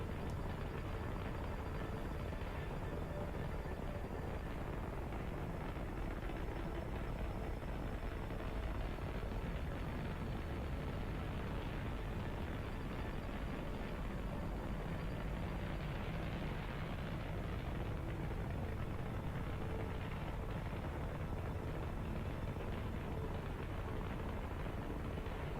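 A long, steady rocket engine burn in Kerbal Space Program, running as a continuous broadband roar with no letup for the whole stretch, fairly loud and close, with no talking over it.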